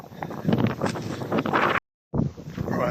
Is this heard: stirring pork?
no